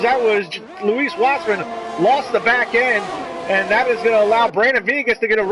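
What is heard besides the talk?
No everyday noise stands out behind the speech.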